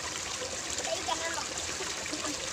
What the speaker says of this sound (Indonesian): kali kecil atau sungai yang masih dijaga sama belum terkontaminasi dengan zat kimia